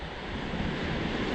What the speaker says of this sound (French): La cascade d'Iléou